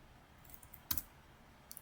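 A few light, sparse clicks of fingers tapping a computer keyboard, soft and close, with a single sharper keystroke in the middle and no speech.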